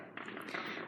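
A dense, continuous crackle of Fourth of July fireworks bursts in a rapid rattling barrage, loud and close, with no voices over it.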